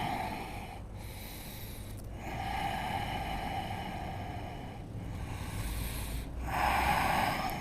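Slow, deep breaths are drawn and released while holding a downward-facing dog yoga pose, each long airy inhale and exhale following in an even rhythm, close and alone without talk.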